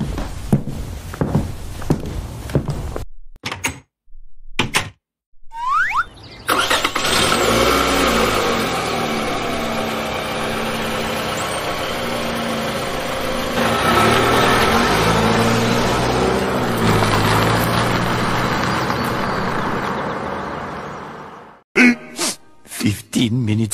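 A car engine starts up and settles into a loud, steady drone as the vehicle drives off, with door and shuffling sounds before and after and brief voices at the start.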